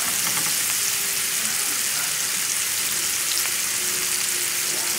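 Onion and garlic fry over a moderate flame in a pan, a steady close sizzle with a constant hiss, no voices.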